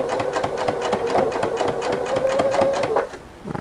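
A Husqvarna Viking sewing machine fitted with a ruffler attachment runs fast through fabric, a loud, close, rapid mechanical chatter of stitches with a steady whirring motor that stops near the end.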